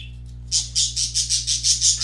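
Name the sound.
angry birds making noise in the background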